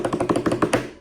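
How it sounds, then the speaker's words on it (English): The original metal wind-up key of a toy robot drops and clatters, giving a quick run of about eight light, close taps that settle within a second. "that sound you heard falling was the original key"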